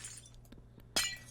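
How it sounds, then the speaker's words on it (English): A glass pane breaks in Minecraft, a sharp bright shatter near the end that follows a few soft in-game taps and clicks, with no talk. "Bye-bye, glass pane forever."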